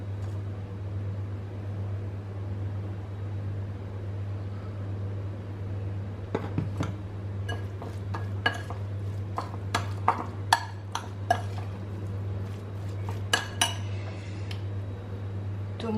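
Egg fritter batter with egg and salt is stirred with a spoon in a bowl, producing irregular metallic clinks and scrapes that start after a quiet stretch, close by over a steady low hum.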